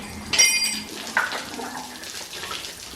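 Leftover fluid splashing and trickling out of a wrecked, badly damaged engine in a garage, a loud watery gush near the start followed by a brief second splash and fainter dribbling.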